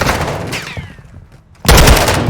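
Bursts of rapid automatic gunfire in a competitive shooter video game, a loud volley that fades to near quiet before another sharp, dense barrage erupts.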